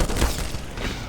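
A grenade going off in the shooter game Black Mesa, a short, fairly loud boom with a low thump followed by brief rumbling debris, no talk over it.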